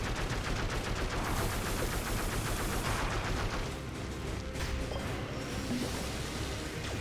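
A turret fires rapidly and continuously in the video game Dead Cells, a dense, loud barrage of shots with crashing impacts that eases slightly midway but keeps going throughout.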